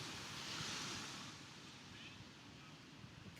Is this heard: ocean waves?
yes